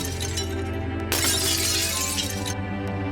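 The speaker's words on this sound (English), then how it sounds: "Every step you take along the glass suspension bridge sounds as though the glass is breaking beneath your feet" Glass shatters loudly underfoot on a glass suspension bridge, a sudden crashing burst with a bright, crackling tail that lasts over a second before fading under steady background noise.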